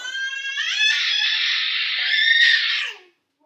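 A high, shrill scream, most likely from a child, holds loud and close for about three seconds and then cuts off abruptly into silence in a home kitchen during dinner cooking.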